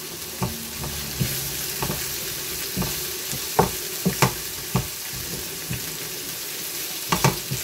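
Onions frying in oil saved from canned tuna, giving a close, steady sizzle punctuated by irregular scraping and tapping as a utensil stirs the pan, with no talk.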